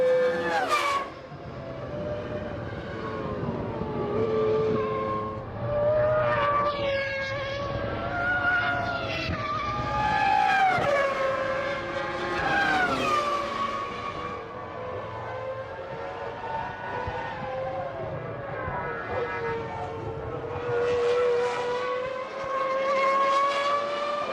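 Heinz-Harald Frentzen's Jordan Mugen Honda Formula One car at Silverstone during the 2000 British Grand Prix, its engine a sustained high whine over about 24 seconds, pitch rising and dropping through gear changes, with no talk.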